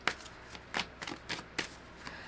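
Tarot cards shuffled by hand, quick riffling swishes in short bursts, close and fairly soft, with a card drawn near the end.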